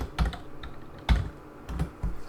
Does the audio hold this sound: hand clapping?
no